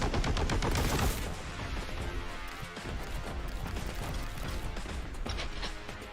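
Heavy bolter fire in Warhammer 40k Boltgun: a loud, dense stream of rapid shots that hammers continuously for the whole stretch, with crashing impacts and mechanical clatter mixed in and no pause.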